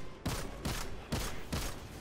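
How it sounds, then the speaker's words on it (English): Golden gun shots in the video game Destiny 2: four heavy, booming blasts at a steady interval, loud and close over constant game background noise. "shoot him with your golden gun"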